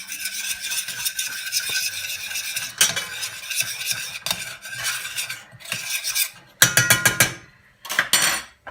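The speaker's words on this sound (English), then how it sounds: "Give this a good mix in, because you don't want this to be lumpy at all." A spoon stirs heaped tablespoons of flour into a thick mixture, scraping and clinking against the bowl in steady, irregular strokes, loud and close, with a few harder knocks of metal on the side.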